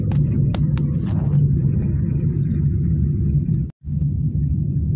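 Steady low interior rumble of a car while riding inside, loud and continuous with a brief dropout near the end and a few light knocks early on, no talk.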